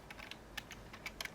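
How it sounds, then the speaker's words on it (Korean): Computer keyboard keys tapped softly and close by, several light clicks in quick uneven succession over a quiet background, no voices. "엔터를 누르겠습니다"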